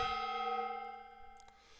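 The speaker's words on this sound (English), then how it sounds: "Wants to hear that gong." A gong struck once for a livestream redemption rings out as a bright, sustained metallic tone that slowly fades over its full length, with a few faint clicks near the end.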